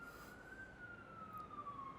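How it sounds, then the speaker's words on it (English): A police siren wails faintly in the distance, one long, slowly falling tone held steady over a low background hiss. "the police cars are coming"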